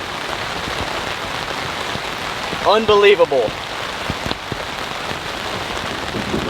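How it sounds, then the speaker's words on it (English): Heavy thunderstorm rain drums steadily on a large camping tent, a loud constant patter with scattered sharper drops, while someone briefly speaks over it midway. "We're in the middle of a knockdown thunderstorm."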